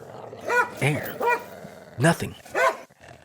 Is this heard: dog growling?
yes